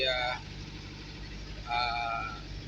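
Car engine running steadily from inside the moving vehicle, a low continuous rumble underneath someone talking over it.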